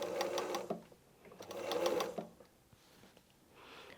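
Domestic sewing machine stitching a seam closed on a patchwork block, running in two steady mechanical bursts of rapid needle rhythm, with quieter handling between and after.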